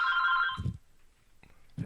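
A telephone bell rings in a loud burst with a bright, sustained tone, then falls silent apart from two short low knocks, the second coming near the end.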